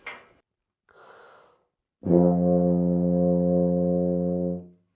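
A few breaths, then a single long, steady low F note on a tuba, played with no valves pressed, held for about two and a half seconds before fading out.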